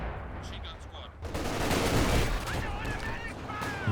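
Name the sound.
flame mortar and Katyusha barrage in Company of Heroes 2 video game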